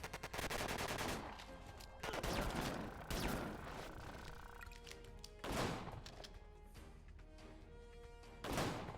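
Loud gunshots ring out in Disaster: Day of Crisis. Sharp bursts of fire repeat at irregular intervals of roughly one to three seconds, with game music and effects filling the gaps between volleys.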